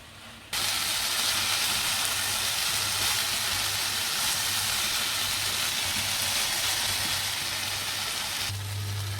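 Tomato sauce with tuna simmering and reducing in a pan, a steady broadband sizzling hiss that starts abruptly and holds evenly for several seconds over a faint low hum, with no talking.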